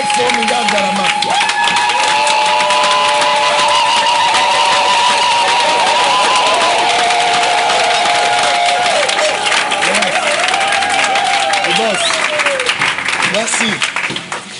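A church congregation cheers and applauds in acclaim of Jesus Christ, loud sustained clapping and shouting from a large crowd, with voices and a held musical tone ringing through it.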